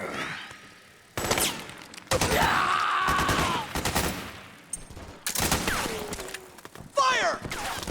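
Bursts of automatic gunfire in Metal Gear Solid 4: Guns of the Patriots, with loud, dense volleys of rapid shots repeating across the stretch and brief lulls between them, mixed with shouting voices.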